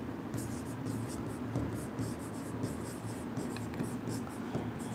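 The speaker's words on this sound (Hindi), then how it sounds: "मैं यहाँ लिख देता हूँ।" Writing on a board during a maths lesson: continuous close scratching and rubbing strokes in short repeated bursts, steady and moderately loud.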